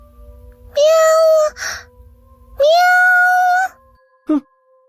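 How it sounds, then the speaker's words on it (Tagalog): Two drawn-out, loud cat meows with a strong tonal, harmonic-rich quality, separated by a short gap, with a short squeak or sigh after each and a brief sharp chirp near the end. The cat is close and heard alone. "Baka pusa lang yon, huwag mo na lang pansinin"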